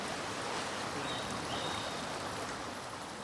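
A strong river rushes through a cave in Papua's Lengguru region, giving a steady broadband roar of churning water throughout, constant and enveloping, with no voices.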